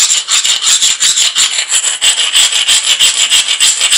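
An obsidian slab blade's edge is ground during flintknapping, a loud, continuous raspy scraping in rapid back-and-forth strokes, steady and close with no pauses.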